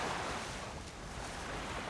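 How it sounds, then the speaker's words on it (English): Moving river water on Lake Nipigon rushes as a steady, broad wash, with gusts of wind buffeting the microphone throughout and no voices. "But we're in some moving water."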